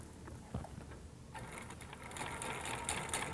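Twin-needle sewing machine stitching a sampler for a designer sweatshirt, a steady mechanical whir that grows busier and louder partway through, with faint ticking from the mechanism.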